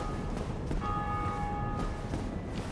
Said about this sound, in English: That bell means that somebody else, some other player in the world, has just rung a bell of awakening.